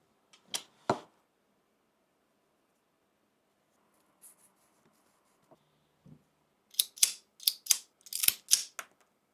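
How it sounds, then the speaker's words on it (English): A cigar is being cut with a cutter before smoking, giving two sharp snips near the start, a few faint clicks, then a rapid cluster of crisp clipping and scraping sounds close to the mic. "Now, for the cigar at hand, let's get to cutting"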